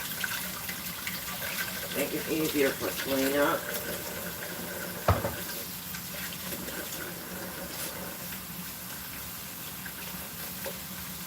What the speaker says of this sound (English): Add a little water into my bread pan there.